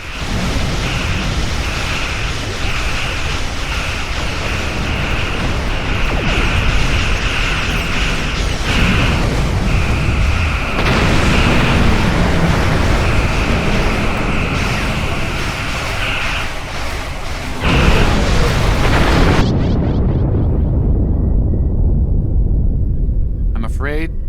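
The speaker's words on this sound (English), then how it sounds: "Your ship was destroyed in combat while protecting the retreat of Admiral Garrett's forces." A starship blows apart in Star Trek Online space combat against a Klingon fleet, with loud rumbling booms and blasts over a sustained engine roar, a voice speaking partway through before it cuts to silence.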